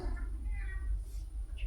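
A pet cat gives a soft meow over a steady low rumble in a home at night, the call faint and brief near the end, with no talk over it.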